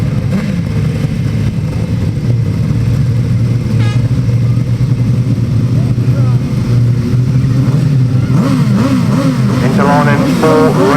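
Grasstrack motorcycles roar together at the start of race 24, a loud sustained engine blare with rising revs toward the end, under a commentator talking over the noise.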